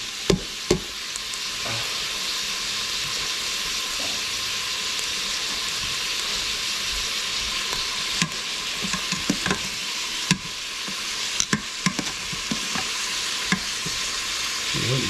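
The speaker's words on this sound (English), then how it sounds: "that's the sizzling away" Meat sizzling in a hot pan with three cloves of garlic and a chunk of onion, a steady bright hiss with occasional clinks and scrapes of a utensil stirring, no talk.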